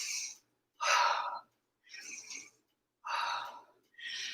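Heavy breathing while recovering after body-weight squats: five loud, close, breathy inhales and exhales separated by short pauses.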